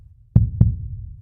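Two heavy, thumping heartbeats in quick succession, close and low, with a muffled resonance after each beat.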